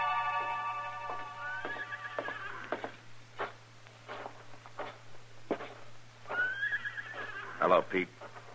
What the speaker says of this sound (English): Where did you leave your horses, Jesse?